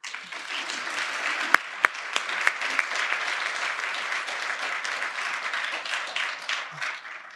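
A lecture-hall audience applauds to welcome a professor giving an intellectual property lecture, a dense, sustained clapping that carries on throughout, with a few sharper claps near the start.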